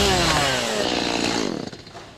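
A chainsaw runs loud and close, its engine droning steadily before the pitch drops and the motor sputters and winds down near the end.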